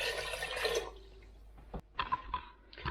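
Broth, which is actually water, poured into a pot of salmon chowder: a burst of liquid splashing for about a second, then quieter trickles and a few short splashes near the microphone.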